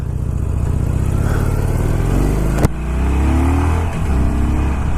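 A 2019 Harley-Davidson Sportster XL Forty-Eight motorcycle engine while riding, loud and close with a steady low rumble, a sharp click midway, then the engine pulling and rising in pitch as it accelerates.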